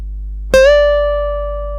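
A single electric guitar note picked on the second string at the thirteenth fret and bent up a full step, ringing out clearly and alone, sliding up quickly and then sustaining as it slowly fades.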